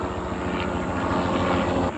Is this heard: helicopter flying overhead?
yes